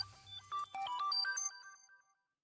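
A notification ringtone chimes during a livestream, a quick cascade of bright electronic tones that rings clearly for about a second and a half, then fades into silence.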